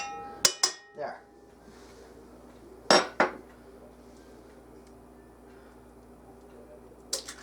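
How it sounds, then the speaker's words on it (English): Eggs cracked against a bowl rim while mixing sour cream sugar cookie dough, a few sharp clicks and taps in short clusters, close and moderately loud over a quiet kitchen background. "Cracking an egg. Yep, 2 eggs. You got to crack it."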